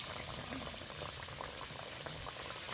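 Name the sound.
chira snacks deep-frying in oil in a wok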